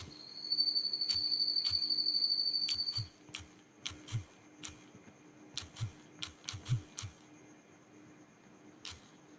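Rapid clicks from a computer keyboard as a short group name is typed, a dozen or so close, crisp taps in irregular bursts after a steady electronic tone fades.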